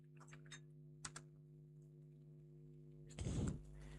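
A handful of soft keystrokes on a computer keyboard as a search is typed, faint over a steady electrical hum, followed by a short burst of speech.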